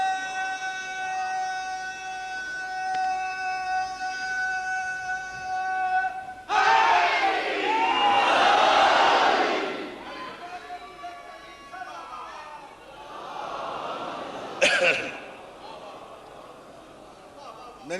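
A congregation at a Shia majlis gathering chants salawat loudly together, a dense surge of many voices that swells, fades, and returns in a second burst, following sustained tonal sound and a lone voice.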